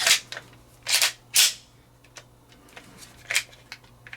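A Smith & Wesson M&P 22 Mag rimfire pistol is dry-fired on inert snap caps, giving several sharp metallic clicks and snaps at irregular intervals, close and fairly quiet.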